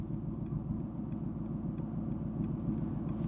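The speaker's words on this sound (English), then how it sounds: "and there's an infinite stream of traffic." Steady road traffic streaming past nearby, a continuous low rumble of car engines and tires with faint intermittent higher ticks, no talking.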